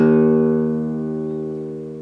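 A single acoustic guitar string tuned to E flat is plucked once and rings out clearly, a close, bright tone that slowly decays over two seconds with no other sounds.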